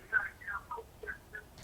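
A television plays in the background of a phone call, its muffled voices coming through the narrow, tinny line in short uneven bursts at a fairly low level.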